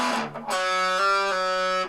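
A single sustained electric guitar note on the fourth string, one fret higher than the start note, played through distortion, preceded by a short fading attack and ringing clearly on its own.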